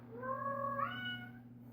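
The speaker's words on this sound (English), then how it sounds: "There will probably be a few cuts in this video because she keeps on meowing." A pet cat lets out a single drawn-out meow indoors, close and fairly quiet, its pitch rising midway, over a low steady hum.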